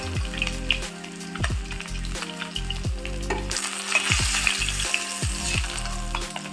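Pabda fish pieces frying in hot oil, a loud continuous sizzle and crackle with repeated clinks and scrapes of a utensil, growing more intense midway, no speech.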